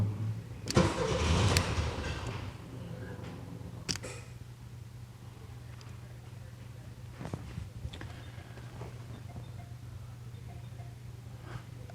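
A fuel-injected 1979 VW Super Beetle engine cranks and catches with a loud burst, then settles into a steady, rumbling idle that runs on, close by.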